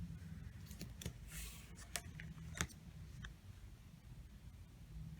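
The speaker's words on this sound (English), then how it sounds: "I'm just going to keep cutting strips like this." Fabric strips for quilt binding are being cut, heard as faint, scattered sharp snips and clicks over a quiet room hum.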